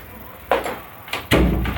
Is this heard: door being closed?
yes